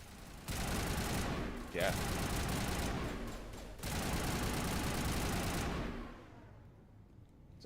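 Rapid gunfire in a Mass Effect firefight rattles in long loud bursts, broken by short gaps, with a brief spoken word between volleys and the shooting fading out at the end.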